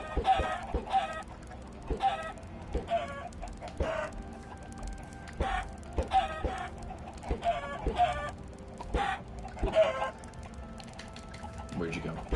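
Chickens clucking in the Minecraft video game, short repeated clucks and squawks at an irregular rhythm over steady background game sound.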